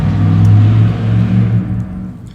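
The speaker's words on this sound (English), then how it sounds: "the truck lacking a muffler" A truck with no muffler and no bed rumbles close by, its loud, raw low engine drone swelling and then easing off over a couple of seconds.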